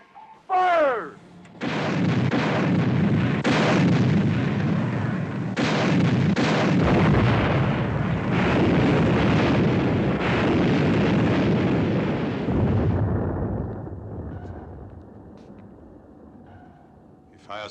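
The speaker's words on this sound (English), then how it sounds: "Mr. Ware, set depth charges to 100." Depth charges explode in a naval war film about a destroyer hunting a submarine: after a brief whooshing sound comes a long, loud rumbling barrage of blasts that gradually fades to quiet.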